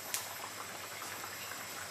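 Rice in water bubbles at a steady boil in a pot, a soft continuous fizzing hiss with tiny pops, faint and close, with no talking.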